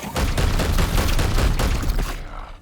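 Dense, sustained gunfire from a squad's volley in Warhammer 40k: Chaos Gate Daemonhunters, loud and continuous for about two seconds, then cutting off abruptly into quiet.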